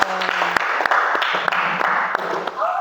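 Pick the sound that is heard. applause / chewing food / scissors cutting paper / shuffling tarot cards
applause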